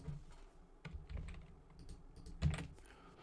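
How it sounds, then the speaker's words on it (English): Typing on a computer keyboard, a loose run of soft close key clicks with irregular rhythm and one louder thump near the end. "this is where we're going to type our prompt"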